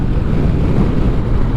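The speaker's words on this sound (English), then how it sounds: "I was in a bit of wind blast there" Steady, loud, roaring wind blast buffets a rider on a 2021 BMW R1250 RT motorcycle, a dense continuous rush with no breaks.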